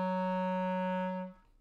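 A clarinet sustains a single low A flat, a clean steady reedy tone held for over a second before stopping, close and alone.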